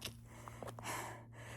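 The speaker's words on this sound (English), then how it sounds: "So a lot of this breathing is just because I'm not used to it" A hiker breathes hard on the Appalachian Trail near Clingmans Dome at high elevation, with a few sharp, close gasps and snorting inhales followed by a longer, heavy exhale, set against faint steady background hum.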